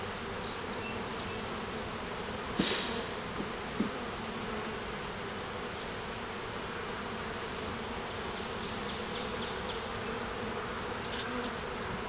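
Honey bees drone on hive frames, a dense continuous buzz close by with a few louder passes and brief knocks, steady throughout without speech.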